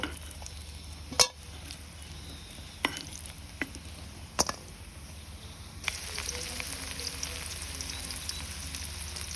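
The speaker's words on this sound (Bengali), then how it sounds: "এখন আমি হচ্ছে পেঁয়াজও ভাজবো।" Onions fry in a pan, a soft background sizzle punctuated by a few sharp clinks and scrapes of a utensil, and the sizzle grows brighter and louder partway through. No one speaks.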